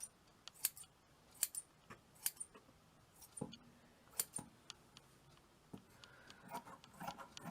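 Scissors snip through wool in a series of quiet, crisp cuts, scattered and irregular, with faint rubbing and handling sounds between them, close and soft with no talk.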